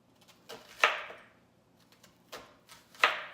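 A knife cuts through an onion into thick slices about half an inch wide on a board, giving a few crisp, close chops with short pauses between them.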